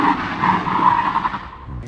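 Hard braking on an e-bike or electric unicycle, a sustained tire squeal and skid that holds steady, then fades as the stop ends.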